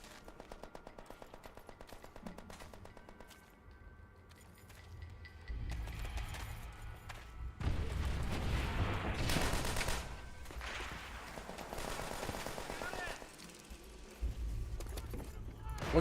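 Bursts of rapid gunfire from a Nambu gun in an online Call of Duty game on PS3, firing in repeated volleys with loud stretches in between, while people talk over the action.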